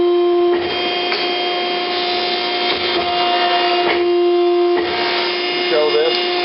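Z!nnovation Phoenix traveling head die cutter resuming its run, a steady loud mechanical whir with a strong constant tone and shifting motor noise throughout, briefly dipping and surging as it restarts.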